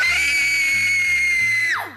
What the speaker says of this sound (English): You're pretty good at screaming